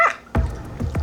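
A small pup named Kujo barks a few times during a health check at a veterinary clinic, with short sharp yaps spaced across a second, close and fairly loud.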